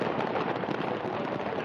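Firecrackers bursting in a fire at a cracker market on the Dussehra grounds in Faridabad, a dense, continuous crackle of pops and bangs at steady loudness with no pauses.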